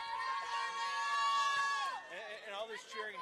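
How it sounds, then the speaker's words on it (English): Crowd cheering and shouting at a conference swimming championship, a dense sustained roar of many voices close by, with a rising tonal whistle or shout near the start that bends downward, then continuing excited chatter and yells. "A lot of cheering going on in this one"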